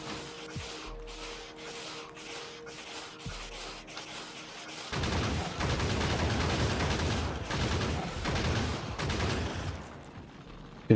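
Rapid bursts of gunfire in Factorio, a quick stream of dry shots over machinery hum that swells into a dense, louder barrage in the second half.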